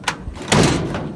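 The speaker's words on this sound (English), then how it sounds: "I'll shut the door, it's a bit awkward." A door on a 1936 Chevy Coupe swings shut with a single heavy thud, close by, after a faint earlier knock, with a low interior rumble lingering after the impact.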